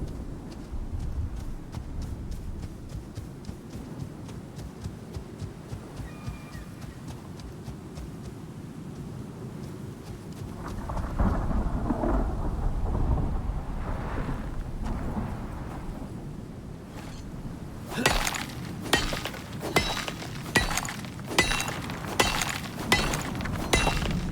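A thunder and lightning storm in the Icarus video game: rumbling crackles build midway, then loud sharp cracking strikes repeat rapidly near the end, with no talk.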